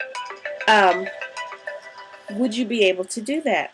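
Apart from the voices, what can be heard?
phone ringtone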